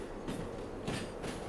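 Train rolling along the track in the Derail Valley simulator, a steady broadband rumble with a rhythmic clickety-clack of wheels over rail joints recurring roughly every half second, close and continuous.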